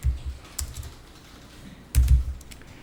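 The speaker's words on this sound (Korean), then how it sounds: "수당명에다 그냥 타자하시는 거예요" Computer keyboard keys tapped in short bursts, a quick cluster of clicks, a pause with scattered single taps, then another fast burst, close and clear while a payroll allowance name is entered.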